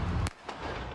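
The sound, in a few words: gunshot fired by a police officer at a car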